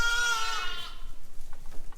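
A ewe in poor condition, recently having delivered a stillborn lamb, gives one clear, close bleat that fades into quieter rustling and shuffling in the pen.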